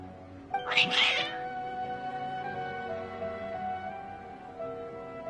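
Cats in the Genshin Impact video game meow and yowl in a loud, agitated burst near the start, then settle into a sustained tonal musical backdrop with no talking.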